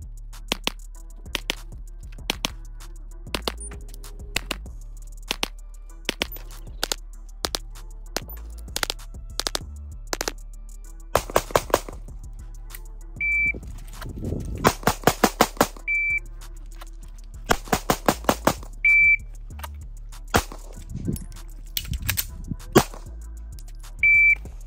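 Repeated strings of sharp pistol shots from a Hellcat Pro Comp concealed-carry handgun during a high-round-count range test, fired in quick bursts with pauses between, punctuated by short electronic timer beeps; no talking.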